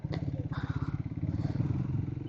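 A motorcycle engine rumbles steadily while riding home, captured by a camera mounted on the bike, with a pulsing low throttle note and wind noise over it.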